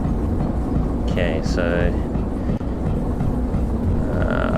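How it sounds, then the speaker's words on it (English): A train in the rail simulator game Derail Valley rolls along the track with a steady rumbling drone and brief horn-like tones, while a voice speaks briefly over it. "I can hear the train."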